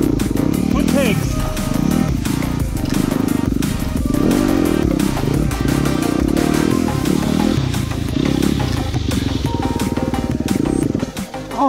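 A four-stroke enduro dirt bike works through deep ruts and low branches on a technical track, its engine revving and chugging loudly and continuously up close, with clatter and brief voices over it.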